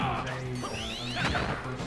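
A smash attack lands in Super Smash Bros during a high school esports match, a sharp crash with swooshing streaks over a steady game soundtrack.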